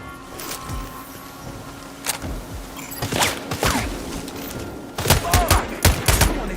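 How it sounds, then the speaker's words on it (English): Gunfire in the Sniper Ghost Warrior Contracts 2 video game crackles in sharp bursts of rapid shots, scattered early, then denser volleys in the later seconds, loud and close. "Someone is shooting me!"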